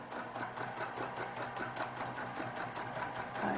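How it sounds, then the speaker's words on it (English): A sewing machine stitches a quilt block in a steady, continuous run of fast, even needle strokes, close up and moderately loud, with no talk over it. "You just stitch at the speed that's comfortable for you."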